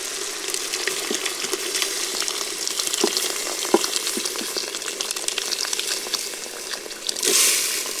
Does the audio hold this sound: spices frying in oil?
yes